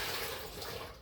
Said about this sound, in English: So let me dump this water and I'll get fresh water.